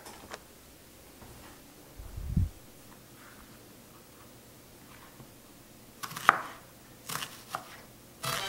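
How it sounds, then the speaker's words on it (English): A knife slicing an onion on a cutting board in a home kitchen, heard as a few faint, scattered chopping taps with quiet gaps between them. "Now that I have my onion sliced"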